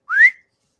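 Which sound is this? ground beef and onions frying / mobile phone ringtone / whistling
whistling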